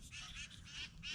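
Birds calling in the morning, several goose- or duck-like honks heard one after another in quick succession, faint and somewhat distant, with no voices.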